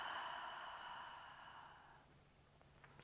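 A slow, steady exhale during a hypopressive pelvic floor breathing exercise, a soft breathy hiss that starts fairly strong and fades gradually over about two seconds, ending in quiet with a small click.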